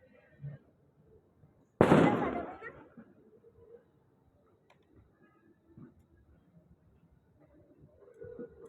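A single loud firecracker bang on New Year's Eve, sharp and close, then a fading rumble, in an otherwise quiet night with faint voices and small background noises before and after.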